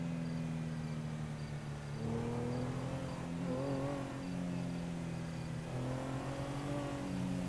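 A truck loaded with scrap metal drives past, its engine a steady low hum that swells and fades across the pass, with crickets chirping faintly in the background.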